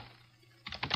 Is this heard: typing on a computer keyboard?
yes